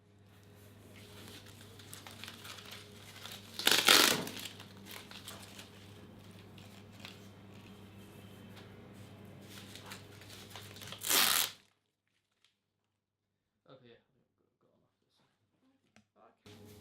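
Elasticated tape being pulled and pressed onto a cast for an elbow drop-out splint, a soft continuous rustle with two sharp tearing rips, then near silence with faint crinkles.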